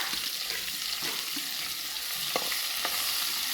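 Oil fries in a pan for a Godavari-style fish curry, giving a steady close sizzle broken by a few short scraping strokes of stirring.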